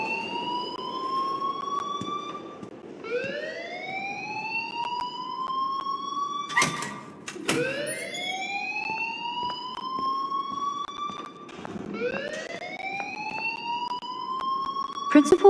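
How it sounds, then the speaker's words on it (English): In Life is Strange, a school alarm rises in repeated siren-like whoops, loud and steady, with a couple of sharp high beeps between them. "please turn off that alarm since that's your job"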